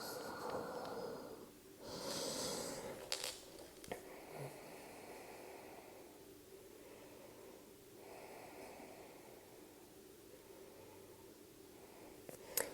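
A deep, slow exhalation during a standing yoga forward stretch, soft and close, followed by quiet breathing in a calm room with no voices.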